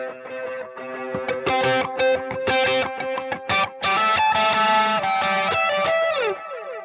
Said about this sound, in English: This is only the delayed signal or echo.